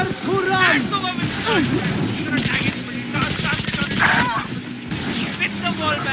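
Rapid automatic gunfire in a Valorant match, sharp bursts of shots crackling in quick rows amid game effects, with an excited commentator talking loudly over most of it.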